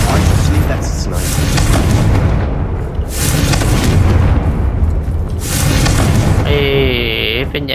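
Confringo fire spell from Hogwarts Legacy blasting a spider, heard as loud booming bursts and rumbling explosions that keep going through the whole stretch, with a swooping magical whoosh near the end.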